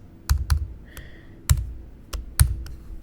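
Keys on a Mac keyboard are typed into Terminal in short irregular bursts of sharp, close clicks, about a handful of distinct keystrokes with brief pauses between them and no voices.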